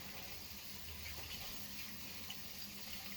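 Hands are washed under a running kitchen tap, with a steady, even hiss of flowing water from start to end and no break in the stream.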